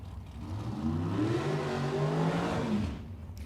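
A dragster engine at a Mid-West drag race, rising in a loud, close rev for about three seconds before cutting away. No one talks over it.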